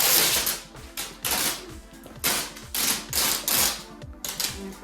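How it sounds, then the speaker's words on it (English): Packing tape is pulled off its roll in quick, crackly bursts along the cut edge of a camper mattress pad, with loud, close rips that come in repeated short strips. "Now we're going to tape the edge that we cut."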